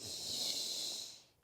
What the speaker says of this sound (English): A deep inhale, exhale